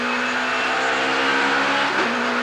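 A BMW touring race car at a 1990 British Touring Car Championship start, 14th on the grid, roars with a steady high engine drone under full throttle, loud and continuous.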